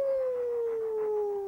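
Rescued dogs from a puppy mill let out a sustained, slowly falling howl with whimpering undertones, close and steady for the whole moment, with no talking.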